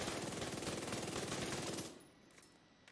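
Dark Winter submachine gun firing in a video game, a fast, continuous automatic burst of rapid shots that cuts off after about two seconds and leaves a quieter tail.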